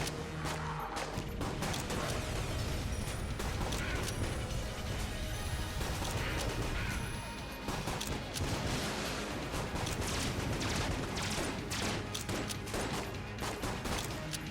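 Dense, continuous cluster gunfire from the Enter the Gungeon video game, a nonstop barrage of overlapping shots and crashes that stays loud throughout, with only a short dip midway.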